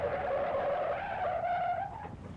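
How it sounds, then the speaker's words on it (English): A powerful car motor drones steadily as the car arrives, the engine tone rising slightly before easing off, loud and close with no voices. "That's sure a powerful sounding motor."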